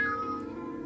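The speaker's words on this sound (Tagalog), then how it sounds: "ang laking pusa naman ito" A large cat gives a single drawn-out meow, close and fairly soft, the tone sliding downward and fading over under a second.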